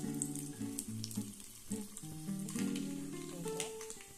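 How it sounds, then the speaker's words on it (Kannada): Dry red chillies fry in hot oil for a coastal-style tempering, crackling steadily and close by through the whole stretch, with a few bright tonal ringing notes mixed in. "ಚೆನ್ನಾಗಿ ಎಣ್ಣೆಯಲ್ಲಿ ಫ್ರೈ ಮಾಡ್ಕೋಬೇಕು ಒಣಮೆಣಸನ್ನು"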